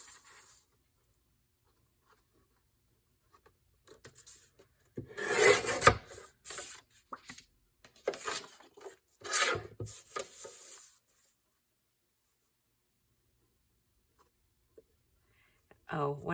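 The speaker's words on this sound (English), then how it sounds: "Let's cut through 2 more of these." Rasping, scraping strokes as a blade cuts through cardboard pieces for a junk journal box, several close bursts of cutting separated by quiet pauses, with a voice speaking briefly at the end.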